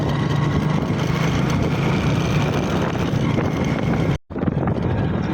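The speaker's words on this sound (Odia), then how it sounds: "ଏ ନଈ ପାଖାପାଖି ପବନ ଟିକେ ହେଉଛି" Steady wind rushes past the microphone beside a river, a broad continuous roar broken by a brief dropout before returning at similar strength.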